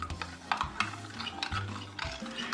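A spoon stirring a roast in its juice for Italian beef, with repeated scraping and sloshing strokes against the pot, close and fairly loud, with no talking.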